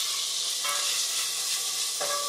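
Tomatoes fry in hot oil for biryani while being stirred, a steady close sizzle with scraping stir movements throughout.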